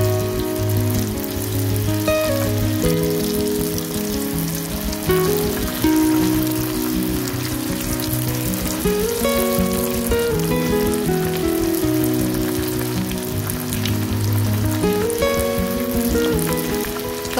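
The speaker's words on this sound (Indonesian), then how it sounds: "lanjut kita goreng dengan minyak panas" Rolled snacks frying in plenty of hot oil, a steady dense sizzle and crackle throughout, with music playing over it and no talking.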